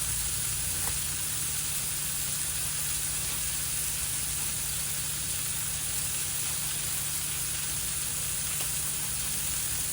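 Smash burgers sizzle on a camp griddle with a loud, steady hiss of frying fat that runs without a break, close and even throughout.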